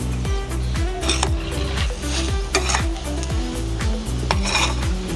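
A spoon scrapes and stirs spiced masala with chopped coriander in a hot pan, giving repeated rhythmic rasping strokes over a soft, continuous sizzle, close up.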